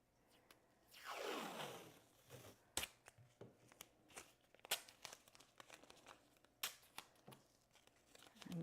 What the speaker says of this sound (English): I'm just trying to get my tape up